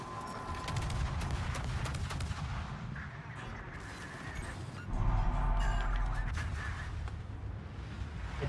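Destroyer guns in World of Warships fire in bursts, producing loud, booming volleys in two clusters with rumbling echoes between them over steady background battle noise.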